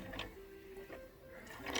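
A domestic sewing machine stitches down a pleat on a fabric face mask, giving a short run of quiet mechanical whirring with light clicking bursts near the start and end, close and fairly soft.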